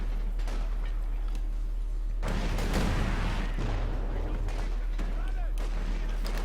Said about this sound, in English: we're seeing the old pea shooter, 45mm anti-tank gun coming in here